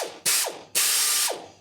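An air ratchet runs off a VEVOR 8-gallon air compressor in two loud, sharp bursts of rapid clicking, close by, with a short gap between them.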